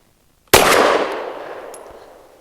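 A single sharp pistol shot from a Kel Tec P15 firing SIG Elite Defense V-Crown 115 grain ammunition, a loud close crack after brief quiet, followed by a long ringing decay outdoors.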